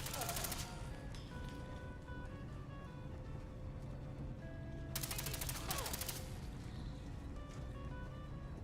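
Gunfire bursts in the Fallout 4 video game with a survival mod, two dense volleys near the start and around the middle over a steady rumbling game soundscape, with voices calling out at times.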